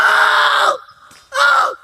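A woman gives two loud, close screams, a long sustained shriek and then a shorter one, with a brief quiet gap between them.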